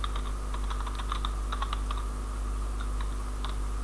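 Quick, uneven keystrokes on a computer keyboard while writing ASP.NET MVC 5 code for cookie handling, clicking in short bursts and pauses over a steady low hum, with no talking.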